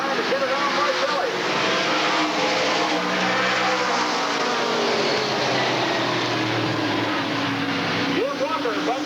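Race cars roar around the Redwood Acres Raceway oval in 1988, a loud continuous engine drone with passing cars rising and falling in pitch as they run door to door, a race announcer talking over the noise.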